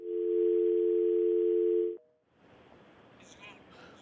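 A steady telephone dial tone hums loudly for about two seconds after a radio talk-show caller's line drops, then cuts off, leaving faint studio background and brief talk.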